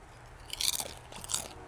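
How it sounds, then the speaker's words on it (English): Steak chewed right against the microphone, two close, crisp bursts of wet biting and crunching separated by a short pause, with no speech. "I'm gonna chew in the mic for you all"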